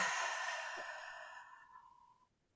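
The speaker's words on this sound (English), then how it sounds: "So I want you to start by taking a nice deep breath." A single slow, deep breath drawn during a guided EFT tapping exercise for anxiety, close and soft, tapering away over about two seconds with nothing else around it.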